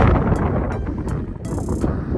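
Strong mountain wind in the Sibillini mountains buffets the microphone, a loud, continuous low rumble with gusting surges and short crackling bursts.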